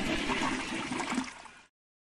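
A toilet flushes in one loud rushing surge of water that holds steady for about a second and a half, then cuts off abruptly into silence.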